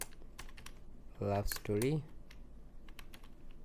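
A keyboard clicks in scattered, light taps as a ChatGPT prompt is entered, close and quiet, with a short stretch of speech in the middle.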